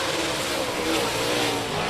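Race cars roaring around the track at Rocket Raceway Park during the KR Cup and Rocket Challenge, a steady, dense engine drone with no breaks, loud and continuous.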